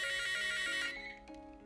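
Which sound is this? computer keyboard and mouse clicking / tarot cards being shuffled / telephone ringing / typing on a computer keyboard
telephone ringing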